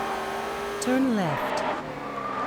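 A car's engine revs in the Test Drive Unlimited racing game, rising and falling quickly over a couple of seconds with a brief tire chirp, while a navigation voice gives a short direction over it.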